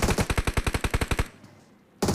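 Rapid automatic gunfire in PUBG, a burst of about a dozen evenly spaced loud shots, a short quiet pause, then another shot starting.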